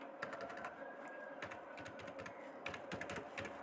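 Fast typing on a computer keyboard, a quick close-up run of light plastic key clicks with brief pauses and denser bursts toward the end, fairly faint with no talking.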